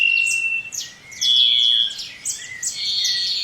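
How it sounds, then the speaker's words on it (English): A black-capped chickadee sings nearby, with clear whistled notes and quick chirps repeating in short bursts against a quiet outdoor background. "a black-capped chickadee. Its cheerful song never fails to bring a smile to my face"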